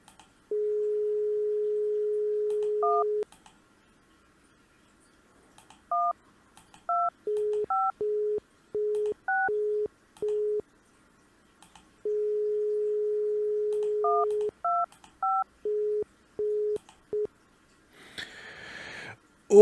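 Telephone dialing in a video game: a long dial tone followed by a run of short touch-tone key beeps, then another dial tone and more beeps, ending with a brief burst of noise.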